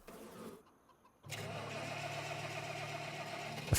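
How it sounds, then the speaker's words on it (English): A tractor engine in Farming Simulator 25 cranks and catches after a brief quiet gap, then settles into a steady low-pitched idle rumble with a faint hiss above it. "So let's grab the other tractor"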